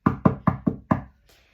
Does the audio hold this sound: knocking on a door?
yes